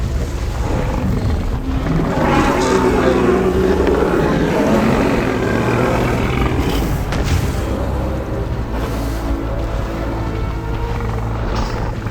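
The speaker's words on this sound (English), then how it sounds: "Its distinctive backward-pointing crest may have inflated like a balloon, producing booming calls that resonated across late Cretaceous wetlands." Deep, booming Saurolophus calls from Jurassic World Evolution 2 roll out as loud resonant low rumbles over a continuous dense, noisy bed, with no voices.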